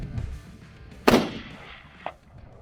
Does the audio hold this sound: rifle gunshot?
yes